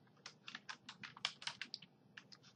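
Quick, close clicking of keys on a computer keyboard while code is typed into a jQuery script, about a dozen crisp strokes in an uneven rhythm with a short pause before a final few, set over a low steady hum.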